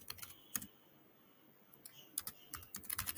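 Keys clicking under fingers as a thank-you message is typed on a computer keyboard, bursts of quick taps separated by a pause, close and fairly quiet.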